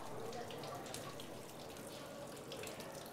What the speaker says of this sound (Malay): Ini air sedang mengalir dengan laju.